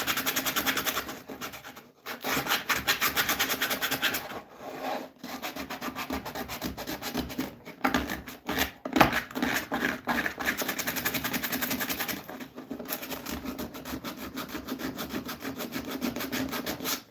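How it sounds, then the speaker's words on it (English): Steady rubbing and sanding on wood inside a small bandsaw-box cutoff tray, close and continuous with brief pauses between strokes, no talking. "I should sand the inside of this before I glue it."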